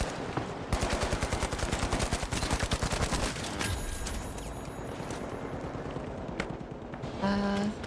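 Rapid shotgun and automatic gunfire from The Finals video game, a dense run of loud bursts packed close together for several seconds before thinning out, with faint talk underneath.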